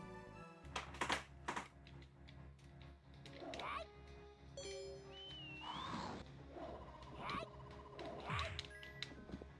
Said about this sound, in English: Get away from me, you stupid bird.